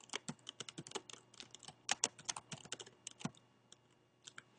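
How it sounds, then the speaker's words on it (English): Fingers type a short phrase on a computer keyboard during spreadsheet data entry, a close, uneven patter of quick key clicks with brief pauses and a few heavier strokes, no voices. "Let's select cell C6 and type Northwestern University."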